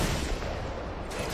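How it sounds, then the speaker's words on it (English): Dense, continuous roar of rapid minigun fire in Fortnite, a sustained buzzing burst lasting over a second with no distinct gaps, fairly loud against the game's background. "Shots through. Minigun"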